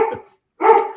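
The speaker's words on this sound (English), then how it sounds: "My dogs say it's time to wrap it up." Pet dogs indoors giving two loud, close barks separated by a short silent gap, with no voices.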